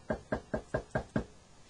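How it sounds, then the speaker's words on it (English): Six evenly spaced knocks on a door at a detective's house visit, sharp hollow raps in quick steady rhythm, close and clear, with no voices. "We knocked on Greer's door."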